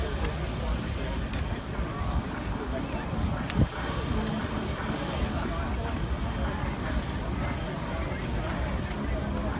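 A KC-30 tanker with an F-18 Hornet close behind, flying over an airshow: a steady, loud jet roar fills the whole stretch with one sharp knock partway through, and a crowd murmurs underneath.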